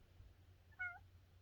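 A pet cat named Colby gives one short meow in a quiet bedroom, faint and slightly distant against a low steady background hum, with no one speaking.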